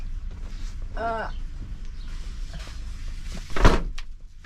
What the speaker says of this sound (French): Allez, ferme la porte.